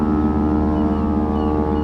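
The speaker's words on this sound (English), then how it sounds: "Foghorn blasting made my heart race a little bit." A ship's foghorn blasts in winter fog in Venice, a loud, sustained, deep tonal drone holding steady throughout with rich harmonics and no talk.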